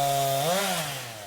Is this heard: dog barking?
no